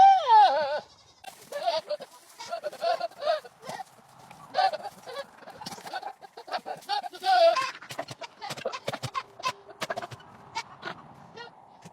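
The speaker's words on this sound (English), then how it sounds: "the goat making farting noises with his mouth. That goat is actually flirting." A buck goat makes flirting, farting-like sputtering noises with its mouth: a loud opening bleat, then a rapid run of wet, blubbering bursts and tongue flutters, close up and sped-up.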